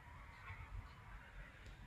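A goose honks at moderate distance in an outdoor spot, a few rough honks rising over steady low background rumble with no talking.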